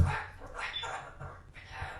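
A dog whines and gives short yips and barks in bursts close by, mixed with background voices and room noise, the pet having just left the room during a painting brush demonstration.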